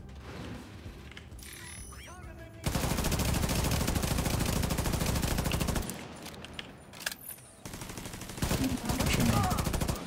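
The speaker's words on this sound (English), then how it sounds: "I'm gonna shoot at Parnell first." Sustained bursts of video game turret gunfire shooting at a character named Parnell, loud and dense in long stretches broken by brief pauses, with some talk mixed underneath.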